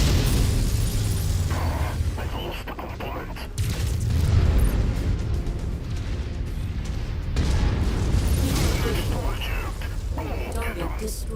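Heavy explosions and mechanical clatter from mech combat in Mechwarrior 5: Mercenaries, loud booms bursting repeatedly across a rumbling battlefield, with a prominent blast near the middle.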